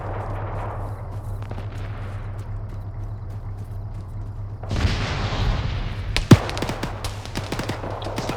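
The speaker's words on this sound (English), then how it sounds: "We need suppressive fire." Gunfire in the military shooter ArmA 3, with a steady low drone under the first few seconds, then a burst of loud cracking shots and one sharp close bang, the rapid reports continuing irregularly to the end.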